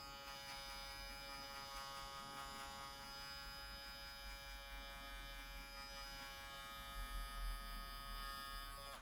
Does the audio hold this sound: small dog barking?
no